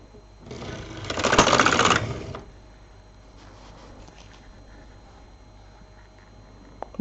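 LK 150 knitting machine carriage sweeping across the needle bed while knitting a frou-frou scarf, one loud rattling clatter lasting about a second and a half, then a quiet room with faint movement and a small click at the end.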